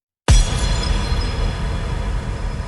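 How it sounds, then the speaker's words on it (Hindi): A mirror hits a wall and shatters with a sudden loud crash, followed by a long sustained spray of tinkling glass fragments. "मिरर टूट गया हजारों टुकड़ों में।"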